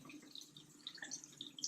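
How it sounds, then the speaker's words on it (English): Tap water runs over dishes being rinsed in a sink, a faint, steady splashing patter with scattered small drips and clinks, quiet and with no voices. "I'm ready to rinse off my dishes"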